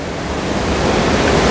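Floodwater rushing at Wawa Dam in Montalban after Typhoon Ulysses, a steady, loud roar of churning water that fills the whole moment without a break, with no voices.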